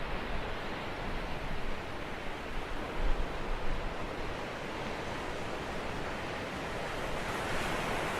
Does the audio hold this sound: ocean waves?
yes